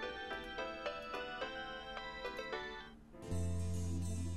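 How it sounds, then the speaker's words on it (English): A phone ringing in the visual novel Steins;Gate, a repeating melodic ringtone playing steadily for a few seconds before giving way to a louder, sustained electronic tone. "Ringing on my phone draws a sharp look from the nearest storekeeper."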